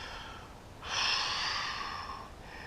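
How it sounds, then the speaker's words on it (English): A slow, audible deep breath taken while holding a hip and hamstring stretch, a soft airy exhale rising and easing off against a low background hum. "Let's take one more deep breath here."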